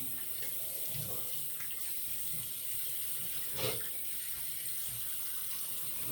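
A bathroom tap runs steadily to wet a shaving brush before lathering a hard soap puck, a soft, continuous hiss of flowing water at moderate distance with a brief splash partway through.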